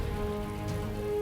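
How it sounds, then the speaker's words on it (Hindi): Heavy rain pours steadily on a stormy night, a dense, constant wash of loud close rainfall with no break over its short span. "ए झड़ वर्षा रात्रि"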